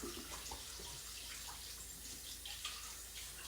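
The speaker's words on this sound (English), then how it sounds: "you guys fill up this with warm water" Warm water running from a tap into a measuring cup, a steady soft gush with faint splashing, close and low in level, no voices.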